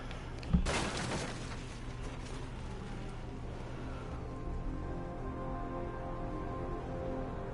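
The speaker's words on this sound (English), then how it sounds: "I broke the glass." Glass shatters in Batman: Arkham Knight with one sharp, loud crash near the start. A steady low hum and ambient game drone carry on afterward.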